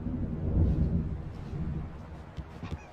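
An approaching thunderstorm in the video game Alan Wake rumbles low and heavy, a swelling roll of thunder that peaks early, then trails off into softer distant grumbles with a couple of faint later crackles.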